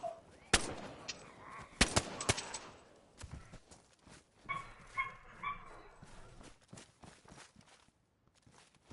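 Suppressed gunfire in the survival game DayZ on the Sakhal map near a prison: a few sharp, muffled pops spread over several seconds, mixed with scattered footsteps and clatter, fairly quiet overall.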